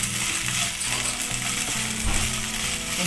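Okra pieces sizzle in a pan with chilli powder while being stirred, giving a dense, steady frying hiss with scraping and clinking from the utensil throughout.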